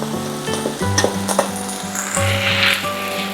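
Cooked potatoes are added back into a hot frying pan for a Filipino breakfast and tossed, with loud steady sizzling and several clanking scrapes of utensil against metal, close and without talk.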